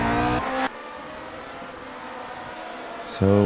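A Lotus 49 race car in the racing game Grand Prix Legends, its engine buzzing with strong harmonic whine, swelling loud at the start and end as cars pass close, under a commentator's voice.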